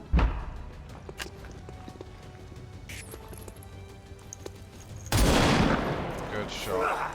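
Video game gunfire in XCOM 2 War of the Chosen: scattered sharp shots over a busy background, then a loud burst of rapid fire that rings out and fades.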